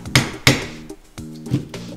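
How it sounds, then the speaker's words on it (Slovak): A metal hole punch is struck with a hammer to pierce a leather strap: three or four sharp, close knocks with short gaps between them, with no other sound around. "zoberiete si dierkovač a pomocou dierkovača a kladiva urobíte dierku na jednej strane"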